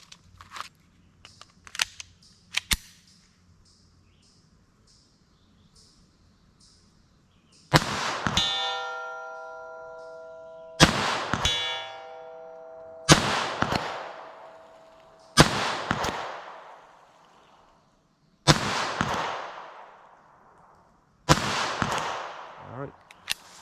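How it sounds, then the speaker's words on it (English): Six sharp, loud .22 Long Rifle shots from a Winchester Xpert22X rifle, fired several seconds apart, each with a ringing clang and decaying echo, after softer clicks and handling noises. "I don't know why I missed those last few shots there."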